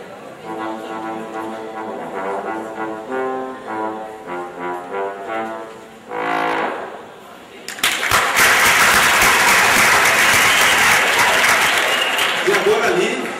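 A bass trombone sounds a series of low, sustained notes in an orchestra's concert hall, steady and resonant, before a burst of audience applause and chatter takes over.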